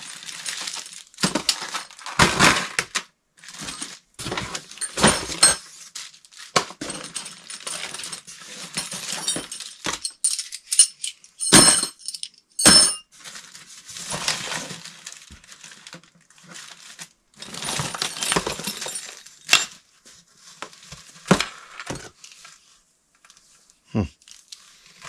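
Loose metal screws clink and rattle in a container as they are handled while sorting through a drawer of spare parts, scattered quiet clatters and rustles with occasional louder bursts, with a voice speaking now and then.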